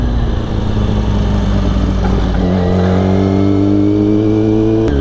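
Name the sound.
motorcycle accelerating away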